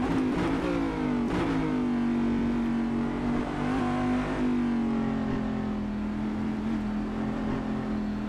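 A Cadillac Daytona Prototype race car in the racing game Assetto Corsa roars continuously at high revs, its engine pitch rising and falling slightly as it holds speed, loud and steady with no speech.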